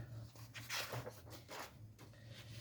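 A dog whimpers and whines faintly in a quiet room, with a few short high whines and breathy pants spread over a couple of seconds.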